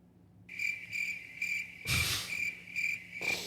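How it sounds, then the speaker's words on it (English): Crickets chirp in a steady pulsing rhythm, a high shrill trill repeating over a quiet background, with a brief burst of broadband noise partway through. "And then hit the crickets."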